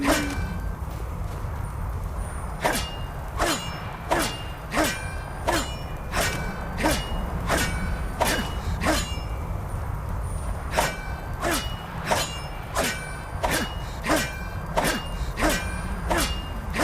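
Repeated metallic clangs from hitting something in Skyrim, about fifteen sharp ringing strikes at a steady, slightly uneven pace over a low ambient game drone.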